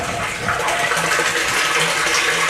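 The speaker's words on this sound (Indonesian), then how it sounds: "otomatis motornya akan hidup, bunyi dan mengeluarkan air di pipa yang di atas." An electric water pump motor runs with water gushing steadily from an upper pipe into a tank, a loud, continuous rushing flow close by with no break.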